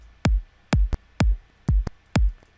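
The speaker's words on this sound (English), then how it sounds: "I pitched this kick in F sharp" Five punchy electronic kick drum hits pitched in F sharp repeat at a steady pace, each with a sharp click attack and a deep tone dropping in pitch, with lighter ghost hits between.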